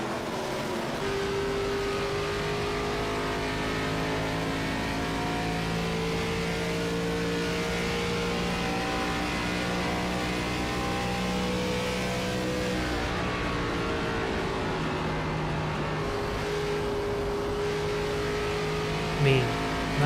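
Onboard roar of an ARCA race car engine at Pocono, a steady droning drone with shifting harmonic tones held throughout, loud and continuous, with commentators talking over it.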